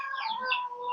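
Chickens on a small home farm giving a quick run of soft, close clucks and chatter, with no talking.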